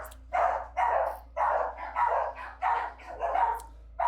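Dogs in the video game Comet 64 bark repeatedly in an even, steady rhythm, about seven distinct barks over a constant low electronic hum, loud and close with no talking.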